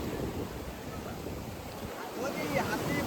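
Rushing, turbulent water roars steadily at a river mouth by the sea, a broad continuous wash with wind buffeting the microphone throughout.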